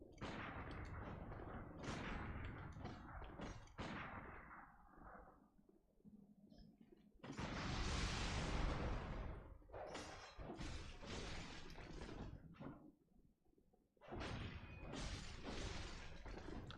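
Pistol shots in the video game Bloodborne amid a fight, faint thuds and bursts mixed with crashing combat noise and a loud whooshing blast, all at low level.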